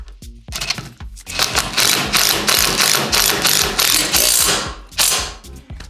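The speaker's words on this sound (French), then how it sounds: "Donc elle va creuser le béton et le filetage va se prendre directement dans le béton" A power driver sinks a concrete screw into concrete. A loud, rapid ratcheting whir comes in long bursts with brief pauses, close and harsh.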